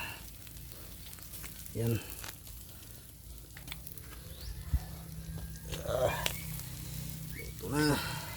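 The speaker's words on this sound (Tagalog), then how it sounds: "Inihaw na tamban or lupoy." Grilled tamban (lupoy) fish sizzles steadily over a fire, a soft continuous hiss beneath someone speaking now and then, with a dog barking briefly in the background.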